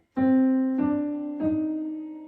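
One sustained E flat note is struck three times in slow succession, each attack ringing and fading slightly, played alone without speech.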